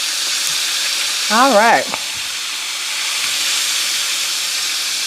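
Buttermilk-seasoned frog legs fry in a pan with a steady, close sizzle and hiss throughout, while a voice briefly speaks over it early on.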